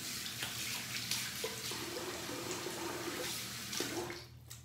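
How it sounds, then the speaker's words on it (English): Water from a running tap splashed onto a face to wet it for shaving, a steady close wash of water with a few soft splashes and brief trickles, no talk. "I'm gonna wet the face here"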